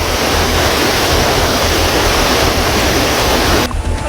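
Torrential floodwater pours from a burst river embankment along the Tuntang River in Grobogan, Central Java, a loud, dense, unbroken roar of rushing water close by that drops off abruptly near the end.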